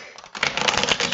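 Oracle cards being given a quick shuffle: a short burst of rapid, close papery riffling clicks after a brief quiet moment.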